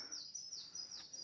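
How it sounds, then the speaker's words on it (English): A single bird calls outdoors near an old bridge in Kentucky, a goose, giving short high chirping honks repeated a few times, fairly faint and clear over quiet background. "Oh, it's a goose."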